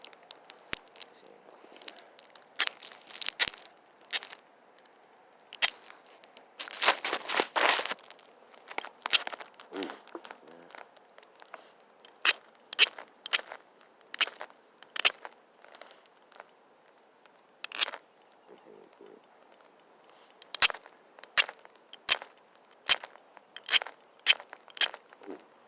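Sharp, dry clicks and tiny snaps come as small flakes pop off a piece of glass under pressure flaking, irregular and close, in scattered bursts and quick runs with brief quiet gaps and no talk.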